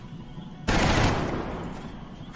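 A burst of squad gunfire in the turn-based strategy game XCOM Long War erupts suddenly and loudly over a low background hum, sustained for about a second and then tapering into a lingering rumble.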